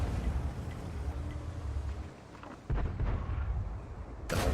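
A tank gun fires in the game World of Tanks, from the Tog 2 heavy tank, a loud booming blast over a steady rumbling engine drone, with a sharp crack near the end.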